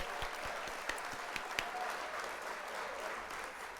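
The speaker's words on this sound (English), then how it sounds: "I'm going to hit the applause." A canned burst of crowd applause, steady dense clapping with a few sharper claps standing out, played at low level without any talking.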